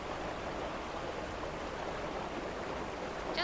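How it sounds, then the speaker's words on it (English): Rough river water rushes in a continuous broadband roar from a video game scene, a steady, dense hiss of churning current with no breaks, fairly loud and close. "Awfully rough water."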